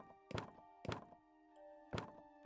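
Heavy thuds of someone banging on a house door in a video game come in three separated blows, each a sharp knock with a short ring. The hits are close and fairly loud over a quiet, steady background.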